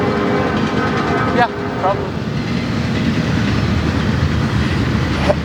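Freight train rolling past, a steady loud rumble of wagons with faint clanking and a brief squeal, while a person speaks briefly over it.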